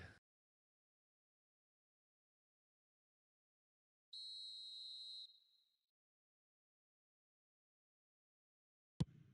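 A referee's whistle is blown once for offside during a professional football match, a single sustained shrill blast of about a second, clear and alone against near silence.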